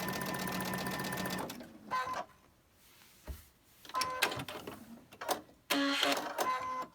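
A sewing machine stitches quilt blocks with cream thread and a 12-inch needle. A steady whirring run gives way to short, stop-start bursts of stitching, with quiet gaps between them.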